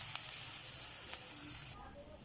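Cooked vegetables sizzle in a pan for a Spanish omelette, a steady broadband hiss with a couple of faint clicks, dropping quieter near the end as the pan comes off the heat; no talking.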